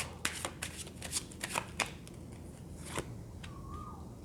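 Tarot cards are flipped and laid out one after another in quick, crisp snaps and slides up close, then a quieter stretch of soft handling.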